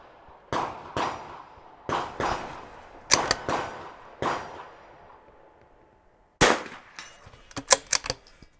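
A rifle fires five shots at a 100-yard target on an NRL22 shooting range. Each report is sharp and loud, spaced a second or so apart, and a few quick metallic clangs follow near the end.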